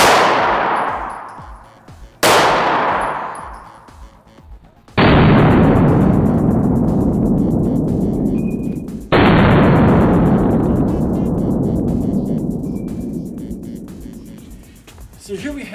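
Four loud 9mm gunshots strike a glass test sample, each a sharp close crack followed by a long ringing, metallic decay, spaced a few seconds apart.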